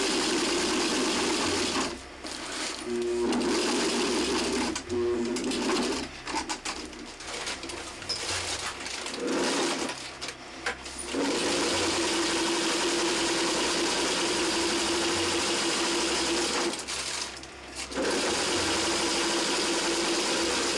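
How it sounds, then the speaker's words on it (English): Sewing machine running a zigzag stitch with white polyester thread, a steady mechanical whir in several long bursts separated by short pauses, close and fairly loud, with no talking. "Now I'm going to sew this piece. I'm using a zigzag stitch"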